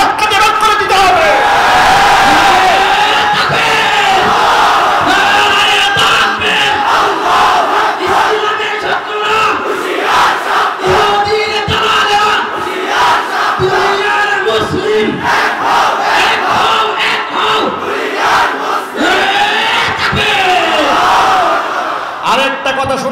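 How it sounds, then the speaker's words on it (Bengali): A large crowd chanting the Nara-e-Takbir slogan in loud, rhythmic unison shouts at a religious gathering, with a voice leading over the roar. "এই যে নারায়ে তাকবীরের স্লোগান দিয়েছে"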